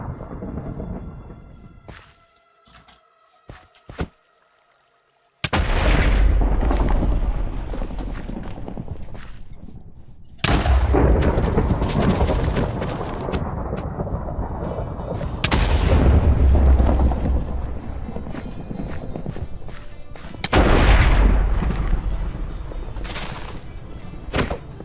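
Lightning strikes summoned by a hostile mob in Minecraft, with several heavy thunderous booms and long rumbling crashes following a quieter stretch, loud and close.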